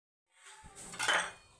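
A gobi paratha, a cauliflower-stuffed flatbread, is set down on a heated pan with a soft clatter and a brief rising hiss, quiet and close, without speech.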